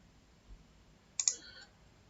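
A mouse click in the Power Query editor lands around the middle, a short sharp double tick with a brief trailing rattle, close and fairly clear against quiet room hiss.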